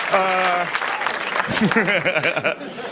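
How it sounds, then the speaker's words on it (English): Audience applause and cheering at a comedy monologue, a burst of clapping mixed with shouts and laughter, with a person talking over the crowd. "Don't clap. I didn't do it for the claps."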